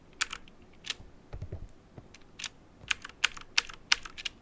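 Keys pressed one at a time on a computer keyboard, a dozen or so sharp clicks in an uneven rhythm with a few softer low thumps between them, close and fairly quiet, with no voices.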